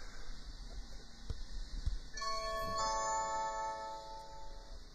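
An old house doorbell rung a second time: a soft electronic ding-dong chime with sustained ringing tones, quiet and close, after low room noise and a couple of faint knocks.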